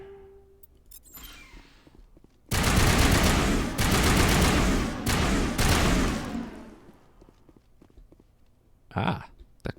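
Gunfire in the video game Mass Effect, a loud sustained burst of rapid automatic shots lasting several seconds with brief gaps, then a quieter stretch and a short final volley near the end.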